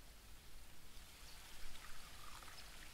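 Groundwater pouring in The Book of Unwritten Tales 2: a soft, steady stream of trickling, splashing water, faint and continuous, with no voices over it.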